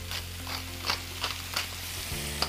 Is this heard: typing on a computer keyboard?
no